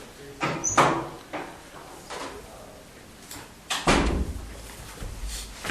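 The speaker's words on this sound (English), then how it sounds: "I'm going to close the door." A door is closed in a budget committee meeting room, with several handling knocks and a heavier closing thump in the second half, close by in a noisy room.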